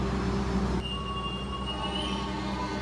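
Bengawan passenger train pulling away from a station, a steady rumble of railcars with metallic wheel squeals rising and fading over the rolling noise, heard close with no talking.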